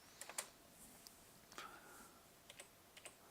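Quiet, sparse keystrokes on a computer keyboard as a chat message is typed, with irregular light clicks and a few clustered taps spaced across the stretch, no voices.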